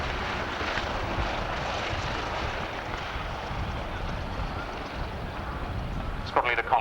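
The Battle of Britain Memorial Flight's Lancaster bomber, code letters PM-M², flying at the 1990 RAF Abingdon airshow, a steady broad engine drone under continuous commentary over a loudspeaker.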